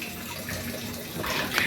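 Water pouring from a motor-fed pipe into a rooftop water tank, a steady splashing flow that swells slightly toward the end, heard alone without talk.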